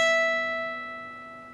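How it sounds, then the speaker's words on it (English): Guitar note on the 12th fret of the high E string, one clean sustained tone ringing out and gradually decaying, close and alone without speech. "Then you're going to play the 12th fret of your high E string."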